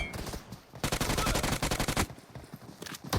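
Video-game gunfire from AI players using different guns: dense, rapid automatic bursts crackle loudly and close, with a continuous volley in the middle and scattered shots on either side, with no talk.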